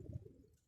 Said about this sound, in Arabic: هذا الحمام جاهز وإن شاء الله يطلق الحمام